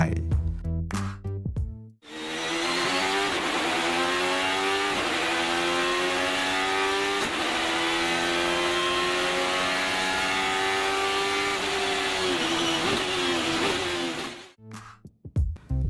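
Alfa Romeo 155 V6 Ti DTM racing car with a 24-valve V6 race engine revving loud and close, rising and falling in sustained pitch sweeps for about twelve seconds, with short gaps and choppier engine bursts at the start and end.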